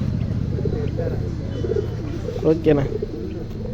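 Racing pigeons in Trichy coo in soft, low, rolling bursts close by, while someone speaks over them.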